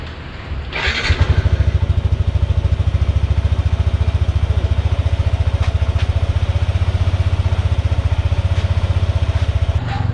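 A Yamaha Nmax scooter engine cranks and catches after an oil change, then settles into a steady, rapid idle putter close to the microphone, with no talking.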